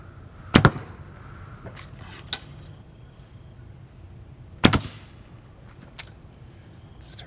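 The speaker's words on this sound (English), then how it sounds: "Heard an arrow hit." Carbon arrows strike an archery target twice, each a sharp loud smack, about four seconds apart, with a few faint ticks in between and quiet outdoor background.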